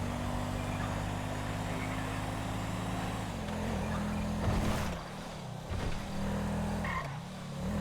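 Police car in GTA 5 with the LSPDFR mod, with a steady engine drone that dips and shifts as it slows and accelerates, a brief skid-like burst midway, no talking.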